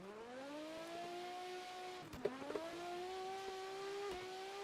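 Racing car engine in the video game Assetto, a steady mid-pitched engine drone that rises slowly, dips briefly with a couple of clicks, then climbs again, moderately loud with no talking.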